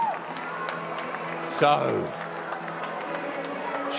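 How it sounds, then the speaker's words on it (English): Cricket crowd at the Kia Oval during a Surrey v Essex T20 Blast match, a broad sustained roar of cheering and applause that swells briefly after a wicket, with a commentator's voice over it. "as the Kia Oval crowd finds their voice"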